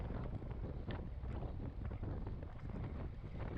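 Strong headwind roars and buffets across the microphone during a bike race, a dense, continuous rushing blast that fills the whole stretch with no voices above it.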